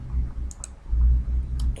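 Sharp mouse clicks on a menu item in Microsoft Word 2010, two brief taps close together early on and another pair near the end, over a low steady room hum with no talking.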